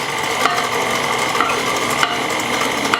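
Cookie dough being stirred by hand as dry ingredients are mixed in, a steady scraping swish in a bowl with faint periodic taps against the side.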